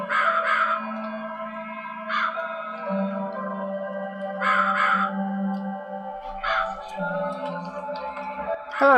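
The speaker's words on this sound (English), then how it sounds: "Hello, Crow!" A crow in The Cat Lady caws loudly in repeated harsh bursts spaced a couple of seconds apart, set over a low droning ambient backdrop.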